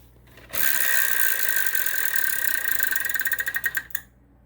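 The big Wheel of Fortune game-show wheel spins with a rapid ratcheting clatter of pointer clicks that slows into distinct spaced ticks before stopping, clear and close.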